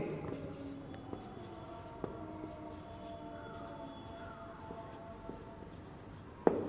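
Handwriting of a short phrase in a lesson setting, a soft continuous scratch of pen or marker on a writing surface that runs steadily with a few small taps, fairly close and quiet, with a sharper knock near the end.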